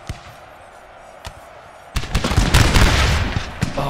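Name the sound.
musket volley fire rippling in Napoleon Total War video game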